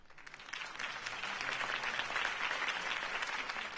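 Crowd applause following Harvey Dent's campaign speech, a dense wash of clapping from many hands that swells and holds steady at a moderate distance, with no talk over it.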